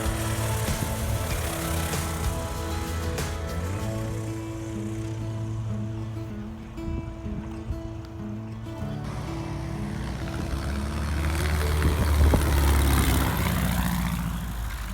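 A Cessna Cardinal light propeller plane flies in to land at a flyin at Ranger Airfield, its engine droning steadily, with some pitch shifts as it passes and a louder rumble near the end.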